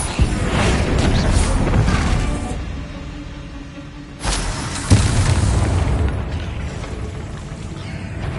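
A Bombarda spell detonates in Hogwarts Legacy with a loud, dense blast, followed by a sustained rumbling roar and then a second heavy explosion about halfway through.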